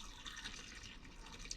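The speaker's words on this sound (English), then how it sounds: "I'm gonna go ahead and pour this out down my drain" Water from a silicone collapsible camping kettle poured steadily down a sink drain, a soft continuous splashing trickle heard alone at close range.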